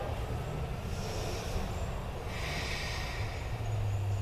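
Breathing during a yoga high lunge in a hip flexor session: an audible breath swell mid-clip and a second longer one after, over a steady low hum, with no talking.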